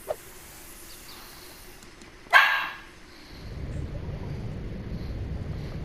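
A female dog lets out a single sharp bark, loud and close, rising out of steady background hiss and low rumble.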